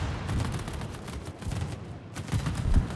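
Heavy naval guns fire during a World of Warships battle aboard the Italian cruiser Abruzzi, with repeated booming salvos and rumbling blasts over continuous battle noise, loud and dense without talk.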